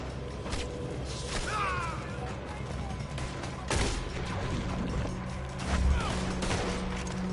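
Gunfire in the video game Red Dead Redemption 2 during a robbery shootout: repeated sharp shots and volleys crack over clattering action, with voices talking at times.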